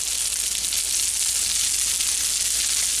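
Turkey burgers topped with Swiss cheese fry in a pan, giving a steady, loud, continuous sizzle with no pauses and no talking.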